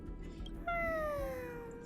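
A cat in the video game Honkai: Star Rail gives one drawn-out, slightly falling meow close up, sustained over soft low game ambience.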